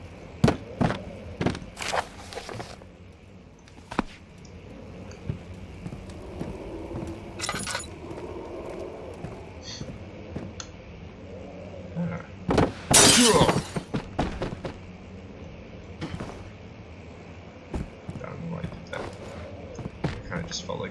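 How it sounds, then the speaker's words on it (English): Objects being smashed in the game Amnesia: The Dark Descent, with sharp scattered cracks and knocks, then a long burst of shattering glass halfway through, amid footsteps and someone talking throughout. "Smashing something."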